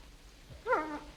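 A very old dog gives a short whimpering whine indoors, a brief rising and falling cry lasting under a second after a moment of near silence, close and fairly clear.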